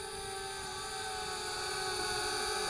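Flitt folding portable selfie drone in flight, a steady high-pitched rotor whine and buzz with sharp tonal hum, holding close and even throughout without talk.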